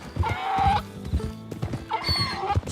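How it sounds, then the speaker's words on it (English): A donkey brays twice inside the Red Dead Redemption 2 game world, each a loud, harsh, drawn-out honking call. Lower rumbles and background game sounds fill the gaps between the brays. "It's just a donkey, idiot."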